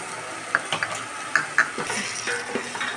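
Thinly sliced carrots fry lightly in ghee with a soft, continuous sizzle, broken by light clinks of a spoon stirring against the pan.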